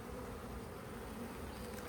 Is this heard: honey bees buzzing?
yes